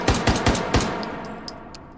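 Four sharp semi-automatic shots from a Stechkin APS machine pistol in the VR shooting game H3VR, fired in quick succession and then followed by a fading tail with small clicks.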